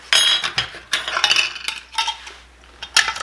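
Lids go onto jars of homemade vanilla with several close, sharp metallic clinks and clatters in quick irregular bursts, no voice present.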